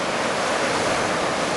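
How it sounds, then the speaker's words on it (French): Very small ocean waves around 50 cm breaking at Anglet beach, a steady broadband wash of surf with no distinct individual crashes, moderately loud and continuous. "c'est du micro-surf, de la toute petite vague dans les 50 cm"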